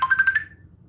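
A mobile phone rings during an IELTS speaking exam, a short burst of four or five bright, pulsing electronic tones close by, then cutting off over a low background hum.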